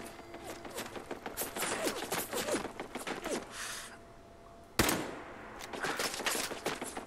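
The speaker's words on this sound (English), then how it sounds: "Apparently the turret still can't see me. It's firing blind." An automated turret in Fallout 4 fires blind in rapid bursts of gunfire, a dense clatter of shots that pauses briefly before a sharp burst resumes the barrage, with no talk over it.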